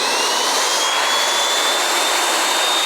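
A line boring machine on an arbor press spinning up at 250 RPM, a loud continuous high whine and hiss with a faint rising tone, steady and close throughout.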